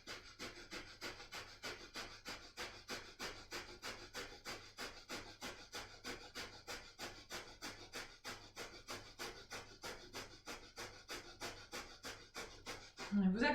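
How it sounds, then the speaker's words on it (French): Rapid, forceful breath-of-fire breathing held in a Kundalini yoga posture: close, steady puffs at about three per second that continue evenly throughout. "Respiration du feu dans la posture."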